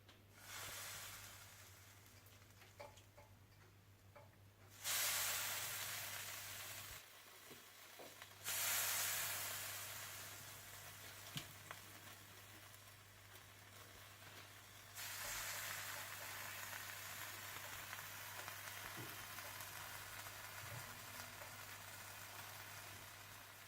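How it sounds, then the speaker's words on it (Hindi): Spiced Bihari boti on skewers grilling with a steady, moderate hiss and sizzle, swelling louder in a few bursts and settling into a continuous crackle under a constant low hum, with no talking. "सीखों पर लगाने के बाद आप इन्हें ग्रिल कर लें।"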